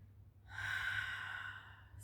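A slow, breathy exhale during a guided meditation, one long airy breath drawn out for about a second, close and soft, with a faint hum underneath.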